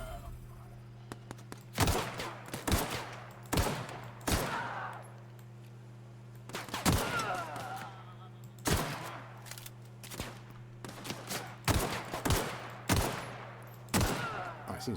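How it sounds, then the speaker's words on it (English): Gunfire in The Outer Worlds comes in a string of sharp shots and short bursts, some clustered, over a low steady hum, with brief pauses between volleys. "there's somebody else shooting at me"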